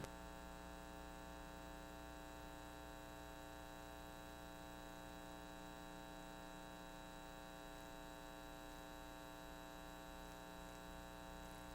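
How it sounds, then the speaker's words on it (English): Air conditioning fan in a livestock show arena at a Maine-Anjou cattle show, giving a constant, steady electrical-sounding hum with layered tonal drone and no variation, faint and alone. "they could turn that air conditioning fan off anytime now"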